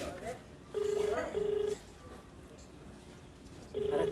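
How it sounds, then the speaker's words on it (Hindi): A phone call being placed, heard as a steady ringback tone in repeated short beeps, two close together then another after a pause, over faint background talk. "देखिए, हम लोगों ने फ़ोन मिलाया"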